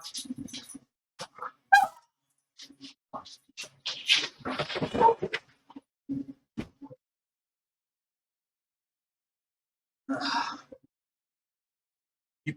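Dogs bark at a UPS delivery man knocking at the door, sharp nearby bursts of barking coming in clusters with quiet gaps between them.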